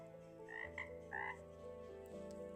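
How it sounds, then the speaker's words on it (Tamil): Frogs croak at a pond in several short, nasal calls over a soft, steady background hum. "ஒரு குட்டையில் நிறையா தவளைகள் வாழ்ந்துக்கிட்டு வந்துச்சுங்க"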